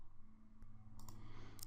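Keyboard clicks from someone entering values on a computer, a few light taps near the close, faint and sparse over a steady low hum.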